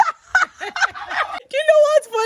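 Broiler chickens on a poultry farm, a close run of loud clucks and squawking calls in quick irregular bursts, including a longer drawn-out cry near the end.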